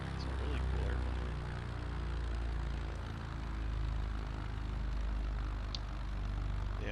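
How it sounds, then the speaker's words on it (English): Steady droning hum of a Cessna Corvallis aircraft engine in Microsoft Flight Simulator 2024, a constant propeller-engine tone running throughout with someone talking over it. "This is a Cessna Corvallis,"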